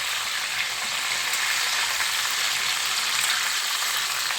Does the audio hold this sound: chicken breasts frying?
yes